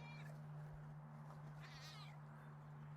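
Rolly, a pet cat, lets out a faint, brief meow against a steady electrical hum and quiet background noise.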